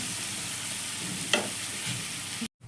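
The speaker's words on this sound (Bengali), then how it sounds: "এবার পেঁয়াজটাকে একটু লাল লাল করে ভেজে নেব।" Onions sizzle steadily in hot oil in a pan for a Bengali egg curry, a dense continuous frying hiss with a spoon scraping and stirring through it before it cuts off abruptly.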